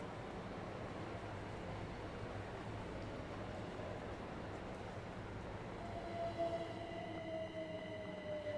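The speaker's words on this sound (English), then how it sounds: "That's a waterline entering." A Waterline electric train draws into a station in Train Sim World 2 on London's Brighton Main Line, a steady low rolling rumble that rises slightly toward the end as faint high wheel squeals come in.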